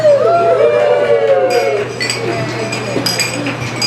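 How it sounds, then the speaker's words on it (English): Glasses clinking during a wedding toast, bright clinks and ringing tones over a steady hum and crowd chatter, loud at first and then thinning out. "Clink the glass, clink the glass"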